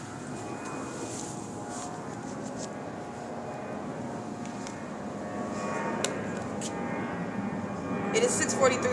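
A Southwest Airlines airplane passes overhead at 6:43 a.m. near a senior citizen complex, giving a steady, broad, distant roar that swells slightly toward the end, with a voice faintly present underneath.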